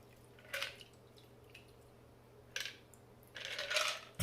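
An Old Fashioned cocktail strained over ice in a glass, faint clinks and trickles with a longer pour near the end, quiet and close.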